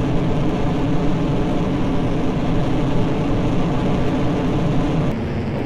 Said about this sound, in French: donc on est reparti pour un nouveau décollage